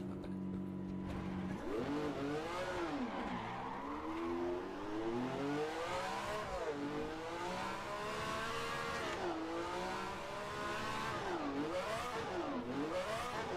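A 1967 Ferrari 312F1 race car driven on track, its engine revving hard and rising and falling in pitch through repeated accelerations and gear changes, steady and continuous at moderate distance.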